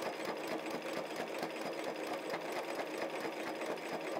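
A sewing machine runs steadily while travel stitching a quilt block, its rapid even needle clatter continuous and close with no pauses or voices.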